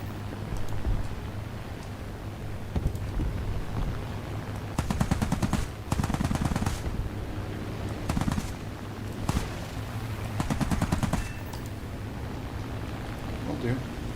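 Bursts of machine gun fire in the War Thunder flight game, with a fast 202 fighter in the fight. Several rapid rattling volleys come over a steady engine drone, and talk runs underneath.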